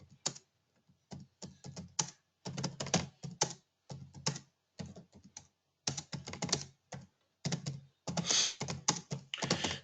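Someone types a chat message on a computer keyboard, giving rapid close key clatter in bursts separated by short pauses, louder near the end, with no voices.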